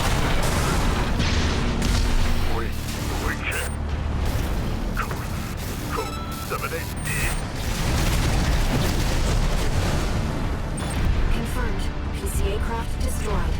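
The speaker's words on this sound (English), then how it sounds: "That's a lot of rockets." A rocket barrage in the mech game Armored Core VI: Fires of Rubicon sets off loud, continuous explosions and booms, dense and overlapping, with someone talking throughout.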